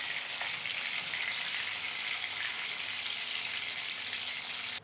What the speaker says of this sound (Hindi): कैप्सिकम जल्दी फ्राई हो जाते हैं तो इन्हें हमें बस 1 मिनट फ्राई करना है।